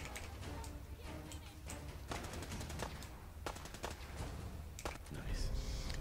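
Radium rifle fire in a Fallout game, rapid bursts of sharp gunshots in irregular clusters over a constant background of game ambience, with a louder burst at the end.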